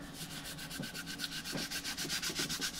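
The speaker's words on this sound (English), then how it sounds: "basically just start scrubbing away" A microfiber cloth dampened with rubbing alcohol rubs steadily over a used graphing calculator, giving a fast, even, rhythmic scrubbing swish that is close and continuous, with no voices.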